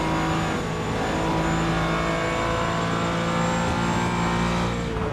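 Porsche and Aston Martin race cars in the iRacing sim at Sebring, engines roaring loudly and continuously with steady high revs and harmonic whine, no talk.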